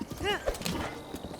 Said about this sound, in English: now this is a spotted horse we're riding